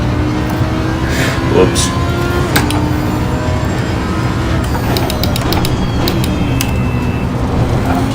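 A racing car engine drones loudly in Assetto Corsa Competizione as the car drifts, with a sustained hum and tire noise, while someone speaks briefly over it.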